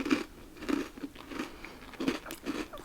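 A British biscuit bitten and chewed close to the mic, about five crisp crunches spaced irregularly with crumbly crackling between them, intimate and quiet, no talking.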